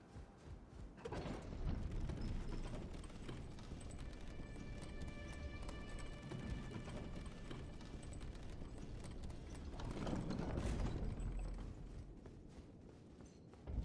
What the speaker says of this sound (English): So now we're going to ride this elevator down.